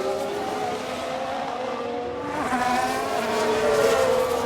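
F1 cars racing in the F1 Manager 24 video game: a continuous, loud engine drone with shifting pitch as cars pass one another, building louder toward the end, heard without talk.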